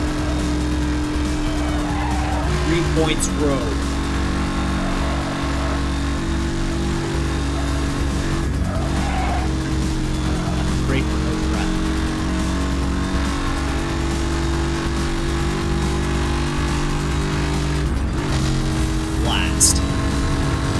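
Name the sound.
race car driving fast in the video game NFS Hot Pursuit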